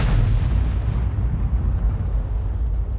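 A 105 leFH18B2 artillery gun fires in World of Tanks with a single heavy boom at the start, followed by a long rumbling decay that fades over about three seconds, with no talking.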